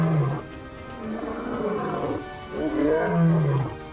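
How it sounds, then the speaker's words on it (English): A lion roars close and loud in a series of deep, rumbling groans and grunts, the calls rising and falling in rhythmic bursts with brief pauses between them. "The king of the jungle, the lion"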